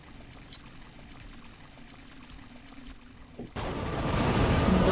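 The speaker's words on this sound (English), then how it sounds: "turned on a shower that's down below this section" Shower water in the Tomb Raider level editor game starts abruptly after a quiet stretch, becoming a steady loud rushing pour that swells slightly as it continues.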